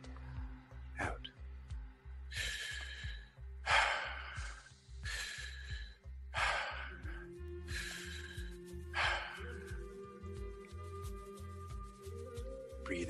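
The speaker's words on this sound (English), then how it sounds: "Breathing through your nose or your mouth." Slow, deep breaths are drawn in and pushed out through the nose or mouth during a guided breathing session in nature, about six soft, evenly spaced breaths over a steady, low, pulsing background.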